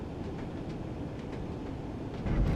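A train locomotive hauling seven coaches on the Northern Trans-Pennine route in Train Sim World, a steady low rumbling drone with faint rhythmic clacking, swelling slightly louder at the end.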